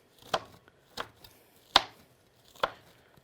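A knife chops fruit or vegetables on a board, four sharp, well-spaced close thunks with quiet gaps between them.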